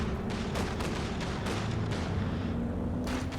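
Artillery barrages in Company of Heroes 2 rumble through a dense, continuous wartime battlefield din, with several sharp blasts and distant booms layered over steady background noise.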